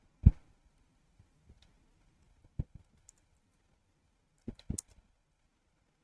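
A computer mouse clicks on a Linux desktop running AntiX-21: about six crisp, isolated clicks spaced irregularly over several seconds, close and quiet against near silence.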